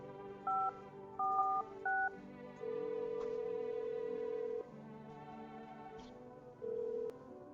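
In the video game I'm Not A Human, a phone dials with a few short keypad tones followed by long steady ringing tones, fairly quiet and with no talking over them.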